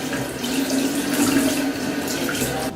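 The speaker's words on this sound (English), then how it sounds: "Then wash the celery." Tap water runs steadily into a sink while celery stalks are rinsed under it, a continuous close splashing rush with no pauses and no talking.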